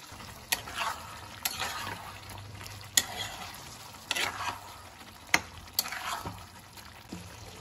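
Chicken pieces cooking in a pan just after beaten sour yogurt is added, a steady sizzle with repeated sharp scrapes and clinks of a spoon stirring at a regular pace, close and fairly quiet, no voices.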